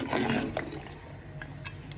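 A little water is poured into a pot of tinda that has been frying, giving a short splashing, hissing burst at the start that settles into quieter bubbling with a few faint clinks.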